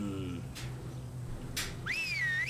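A short rising-and-falling whistle from a player character calling zombies in the video game Stubbs the Zombie, clear near the end over a low game hum, with brief whooshes before it.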